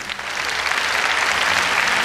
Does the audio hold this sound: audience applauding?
yes